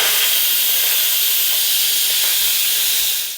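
Instant Pot pressure cooker venting steam in a fast pressure release, a loud, steady, close hiss that runs unbroken for several seconds and fades slightly at the end.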